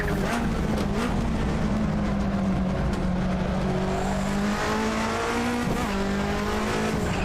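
Race car in the Assetto Corsa racing game braking hard, its engine note dropping as the tires squeal, a steady loud drone with downshift blips and no talk over it.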